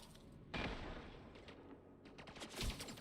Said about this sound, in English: Let's get that sniper rifle on the go